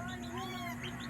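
A short, close meow from a cat raised among other cats without its mother, a brief rising and falling cry over a steady low background hum.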